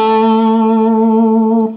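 One sustained, distorted electric guitar note using a stacking technique, dug hard into the strings on the fifth fret of the B string, ringing steadily and loud with effects before cutting off, with no voice.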